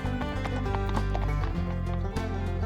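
Rhythmic clip-clop hoofbeats of a running horse play steadily over bright children's rhyme music. The hooves are fairly loud and even, set against sustained melodic tones.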